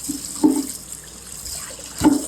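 Ripe mangoes rinsed under a running kitchen tap, a steady soft stream of water with two brief louder splashes as the fruit passes through the flow.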